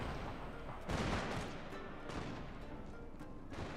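Musket volleys in Shogun 2 Total War, a battle game, crackle in ragged bursts, one heavy salvo then scattered shots over a distant rumble.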